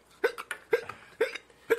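Four sharp, quiet hiccups spaced about half a second apart, heard up close after a sip of cask strength whiskey, with little else around them.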